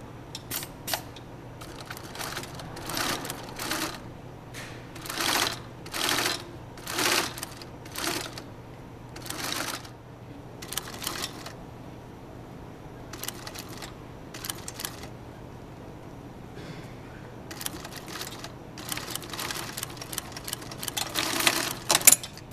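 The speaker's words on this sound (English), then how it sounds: "now we're going to bind it on our special binding machine" A binding machine sews binding around the edge of a Moleskine folio, running in bursts of rapid mechanical clattering stitches separated by quieter pauses over a steady low motor hum, close and without voices.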